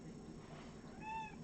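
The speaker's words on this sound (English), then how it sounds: "When you want Pania, you just say her name in a sing-song way, and she meows in an answer." A rescue-center cat gives a single short meow in answer, fairly faint, rising clearly over a quiet room murmur near the end.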